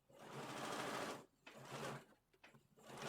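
A sewing machine stitches a coat lining with a long stitch length, running in a steady burst, pausing briefly, then running again in shorter spurts and restarting at the end, fairly close and alone.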